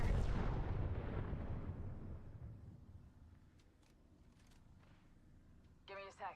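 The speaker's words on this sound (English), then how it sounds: "Tossing a frag." A frag grenade detonates in Apex Legends, opening with a loud broadband boom that rolls off over about two seconds, followed by quieter game ambience and a brief voice near the end.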